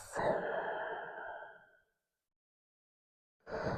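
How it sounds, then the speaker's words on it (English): Slow, deep breath during a gentle yoga flow: one long audible exhale lasting nearly two seconds, then a pause of silence before the next breath begins, close and clear with no talking. "Deep breaths."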